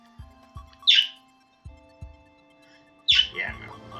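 A pet bird lets out two sharp, high chirps a couple of seconds apart over low game music and thumping effects.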